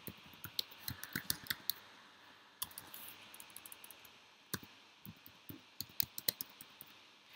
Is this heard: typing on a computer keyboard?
yes